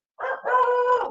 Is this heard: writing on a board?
no